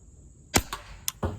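Sharp shots from an HDR50 paintball-style marker running on HPA, firing a 13.5 gram ball: a single loud crack followed by a couple of fainter mechanical snaps and another quick shot, close up with no talking.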